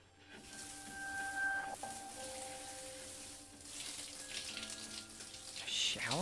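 Shower water runs in a steady, soft hissing spray in the video game Persona 3 FES, with faint tonal background music beneath and a brief brighter splash near the end.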